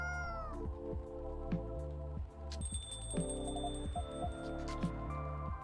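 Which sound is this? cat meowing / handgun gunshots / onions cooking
cat meowing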